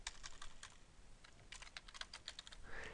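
Computer keyboard keys clatter in a steady run of quick, crisp taps, close and fairly quiet, with a short burst at the end and no voices.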